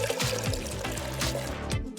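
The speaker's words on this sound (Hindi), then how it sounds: "पहले पानी को इन कप्स में डालेंगे।" Water poured into cups in a home kitchen, a steady trickling stream with small splashy surges as it fills, close and continuous.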